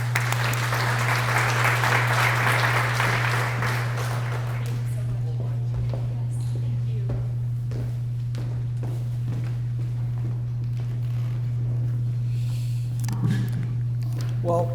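An audience at the Calaveras County Chamber of Commerce State of the County 2024 event applauds to welcome Senator Tom McClintock: dense, loud clapping for about five seconds, then it fades to quiet room noise with scattered thumps over a steady low electrical hum.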